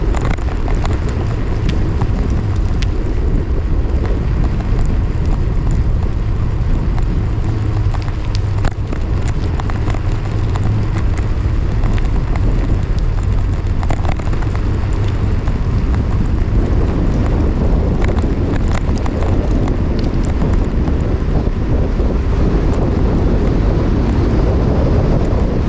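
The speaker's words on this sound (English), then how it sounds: "All the wind, you know." Loud, steady wind roaring across the microphone while riding a bicycle during a long training ride, constant rumble without a break.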